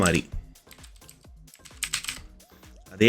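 A computer keyboard clatters as a name is typed, with quick, uneven key clicks that come in short runs. A person talks at moments between the keystrokes.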